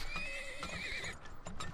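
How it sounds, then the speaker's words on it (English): Horses in the video game Turmoil, a clear high whinny rising and falling over steady clip-clop of hooves, moderately loud and alone with no voices. "Speed up our horses while we can."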